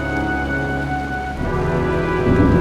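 Steady rain with a storm building, from the game Heavy Rain: a constant hiss of falling rain over a low hum that grows louder near the end.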